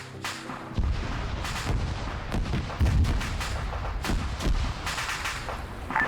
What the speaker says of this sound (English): they're making the Tunguska fire all of its missiles